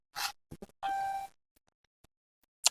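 A mobile phone dials a doctor: a single steady electronic beep of about half a second, framed by a few short taps and clicks, close and clear.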